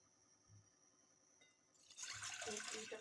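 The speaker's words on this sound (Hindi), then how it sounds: "यहाँ मैंने गैस पर पॉट रख दिया है मीडियम फ्लेम पे और इसमें मैं डाल रही हूँ 1 लीटर पानी" Roughly a litre of water poured from a half-litre jug into a pot on a gas stove at medium flame; a faint start, then a louder, broad splashing rush filling the second half.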